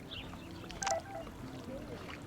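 A short electronic text message alert chimes once in the video game Life is Strange Remastered, a brief tonal blip standing out over a steady low game ambience.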